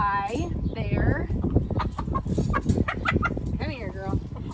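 Brown and white laying hens at a poultry event cluck and call in short, rising bursts close by, with a steady murmur of people talking underneath.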